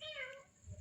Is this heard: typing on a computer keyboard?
no